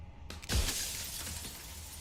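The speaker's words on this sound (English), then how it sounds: "A crack slides down the center of the mirror, splitting the image and the glass in 2" A mirror cracks and shatters into broken glass shards in a video game, with a sharp crack followed by a burst of breaking glass and a lingering tinkling, crunchy noise as shards settle.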